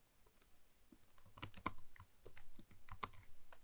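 Quick bursts of typing on a computer keyboard as a new password is entered, close crisp key clicks in uneven clusters that start sparse and grow denser, with no talking.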